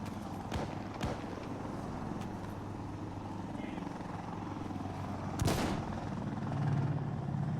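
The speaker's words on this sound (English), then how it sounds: "that chopper's still outside" A helicopter in the game Insurgency: Sandstorm hovers nearby as a steady low rumble, with a few sharp gunshot cracks and a louder burst midway. People talk over it.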